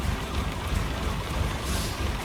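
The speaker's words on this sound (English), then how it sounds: "it's absolutely hammering down with rain" Heavy rain drumming steadily on a truck cab in Euro Truck Simulator 2, driving a Magirus Deutz 19/22D, a dense, even wash of noise with no talk.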